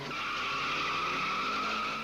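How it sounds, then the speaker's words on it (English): Street racing cars on a public road at night in the San Fernando Valley, with tires spinning and screeching and engines roaring. The sound is a loud, steady skid squeal over engine drone and runs the full length with no talk. "Tires spin, engines roar, and the race is on."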